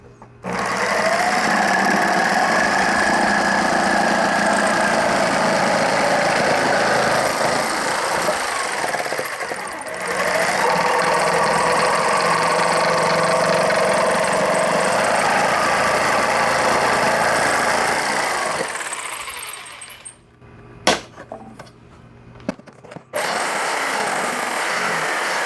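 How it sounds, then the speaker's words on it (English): A jigsaw fitted with a fine blade cuts wood for a birdhouse, its steady loud buzzing drone running for most of the time, dropping briefly around the middle, then stopping near the end with a few clattering knocks. "Get out the jigsaw and get a fine blade for this."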